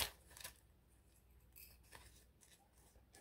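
Scissors snip through two stacked plastic page protectors at once, a series of soft, close crisp cuts at an uneven pace in a quiet craft setting.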